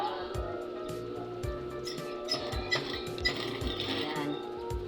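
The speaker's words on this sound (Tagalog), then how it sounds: "Mag-umpisa ang ating tahi mga kananay dito." Sewing machine stitching the facing on the front of a blouse uniform, running in short repeated bursts with rapid needle clatter and a steady motor hum, no talking.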